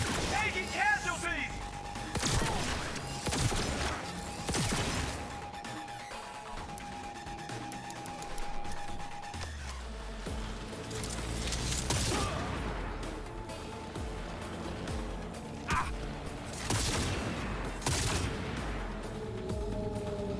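Rapid bursts of gunfire from a high-capacity gun in the game Cyberpunk 2077, repeated shots and crashes over a busy battle soundscape, with voices shouting over the shooting.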